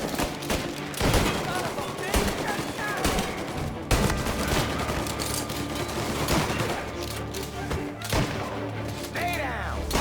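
A shootout in Mafia: Definitive Edition: repeated loud gunshots crack in bursts across a busy battle backdrop, with impacts and echoes, while voices shout over the firing.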